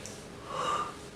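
A single drawn-out breathy yawn, close and fairly soft, rising and swelling in the middle before tapering off, with no talking.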